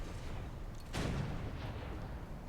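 A boat's cannon fires once in War Thunder, a single loud, close boom that rings out briefly over the steady rumble of engine and water noise.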